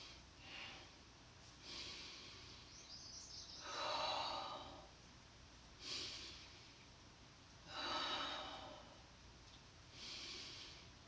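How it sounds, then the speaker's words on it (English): Slow yoga breathing during a moderate vinyasa flow, with soft, airy inhales and exhales swelling in broad waves every couple of seconds, close and fairly quiet, with no talking. "let's take a few breaths here as we exhale and inhale and open"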